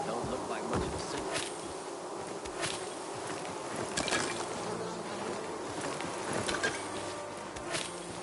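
Bees buzz continuously in Dying Light 2, a steady, moderately close drone with occasional faint clicks and footsteps underneath.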